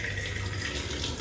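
Water runs steadily from a tap into a sink, a continuous near splash with a hand dipping into the flow, no talking.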